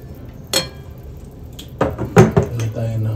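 Tofu goes into a pot of simmering laing, a Filipino taro-leaf dish. A few sharp metallic clanks and scrapes of utensil against pot ring out close by, with some speech around them.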